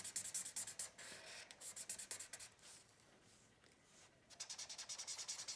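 The chisel tip of an alcohol marker rubs across paper in quick back-and-forth strokes, a soft, rhythmic scratchy hiss that pauses briefly midway and then resumes faster.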